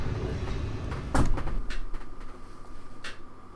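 A creaking, squeaking door moves in The Stanley Parable, with a sharp knock or thud midway and a second scraping creak near the end over a low hum.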